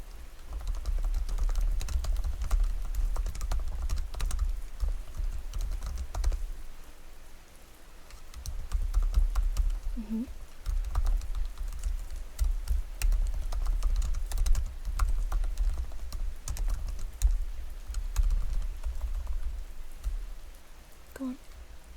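Rapid, continuous typing on a computer keyboard in a quiet clinic survey setting, soft close clicks running in bursts with a short pause midway.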